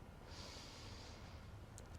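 Deep yoga inhale, a soft, close breath drawn in through the nose with a faint airy hiss, ending in a couple of small sniffs.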